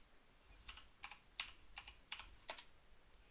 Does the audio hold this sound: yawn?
no